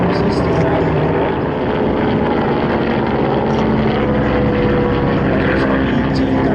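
A BT-13 WWII basic trainer, a fixed-gear tail-dragger, passes at an airshow, its propeller engine a steady, loud drone with broad rumble throughout, voices faintly audible over it.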